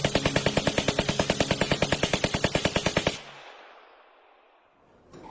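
Soldiers fire a rapid, evenly spaced burst of automatic gunfire as a radio drama effect, loud and close for about three seconds, then it cuts off into a fading echo and faint hiss.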